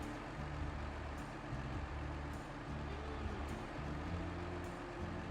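A truck drives in a Snowrunner or Euro Truck Simulator 2 game, its engine a steady low droning rumble throughout, with faint periodic high clicks over it and no voices.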